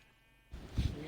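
A sheep bleats in Minecraft, a short, close bleat that sets in suddenly after a near-silent start and holds for about half a second.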